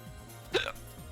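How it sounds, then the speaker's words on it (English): A single soft hiccup, quick and faint, heard over low background hum in a quiet room. "Hiccups."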